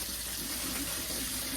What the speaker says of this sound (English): You want cold water running.